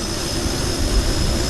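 An aircraft engine spins up in Kerbal Space Program, a loud, dense, continuous roar with a steady high whine on top, sustained and unchanging over the whole stretch.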